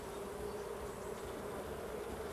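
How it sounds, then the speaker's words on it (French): Honeybees buzz steadily and densely around an open hive during a spring inspection, a continuous close swarm drone with no voices. "Ici, une abeille avec du pollen aux pattes."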